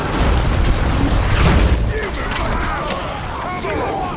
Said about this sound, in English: Once I've exploded this orc until he doesn't know left from right